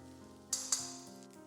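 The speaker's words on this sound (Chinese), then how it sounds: "接着把切好的姜丝倒进来，继续翻炒一下，炒出生姜的香味" Shredded ginger is stir-fried in a hot pan with soft sizzling, and two sharp utensil scrapes or clinks stand out in the middle of the short, quiet stretch.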